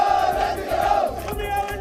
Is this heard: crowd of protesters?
yes